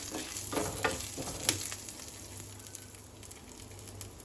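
Curry leaves, garlic cloves and ginger frying in hot oil for sambar, a steady crackling sizzle close by with a few louder pops and spatula stirs, no voices.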